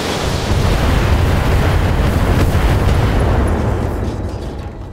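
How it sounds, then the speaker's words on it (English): Two 95-ton-class Annihilator mechs in the BattleTech game fire all weapons together, including massed AC-10 autocannons, producing a loud, continuous rumbling barrage of overlapping blasts that fades slightly at the end. "Firing all weapons."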